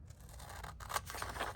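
Scissors snip around a thrift store item, a soft, close sequence of faint slicing and scraping cuts in a quiet room without talk.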